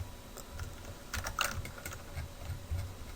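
Computer keyboard keys and mouse clicks while working in Maya 3D software, a quiet run of soft irregular taps with a few sharper clicks over low background hum.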